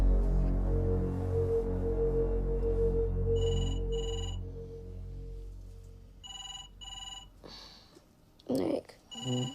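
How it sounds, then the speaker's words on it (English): A telephone rings in repeated electronic trills at night while a voice speaks over the first rings, followed by a short rustle and a final ring. "Nick, it's the phone."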